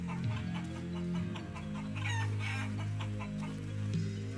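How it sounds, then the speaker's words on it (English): Chicken clucking in the video game Shenmue III, a repeated close-up fowl chatter with steady low background music or ambience underneath and no talking. "I was distracted by the chicken."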